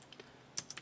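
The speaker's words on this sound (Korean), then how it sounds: "여기서 그대로 이제 타이핑을 치시는 겁니다, 여러분." Several quick, quiet keystrokes on a computer keyboard, light clicks in a short uneven burst, close by.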